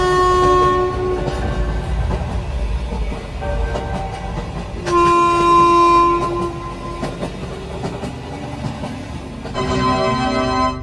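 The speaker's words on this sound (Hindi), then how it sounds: "अच्छा हुआ ड्राइवर ने ट्रेन को स्टार्ट कर दिया" Cartoon train from the Gulli Bulli episode pulling away and running, with loud horn blasts recurring over a steady rumbling, clattering run; no talk.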